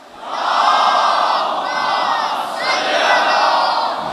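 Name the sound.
congregation loudly reciting salawat in unison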